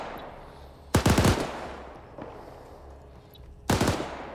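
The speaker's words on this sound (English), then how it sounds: "trying to get some upper elevated shots with that marksman rifle" Marksman rifle fire in a first-person shooter match, two sharp loud bursts of rapid cracks about three seconds apart, with a faint pop between them over steady background ambience.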